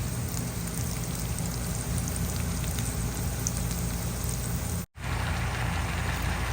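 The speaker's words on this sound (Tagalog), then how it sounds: "ginigisa ko na po ang ating bawang, sibuyas at ang luya" Garlic, onion and ginger sautéing in a pan for adobong kangkong, a steady dense sizzle running throughout with a brief dropout near the end.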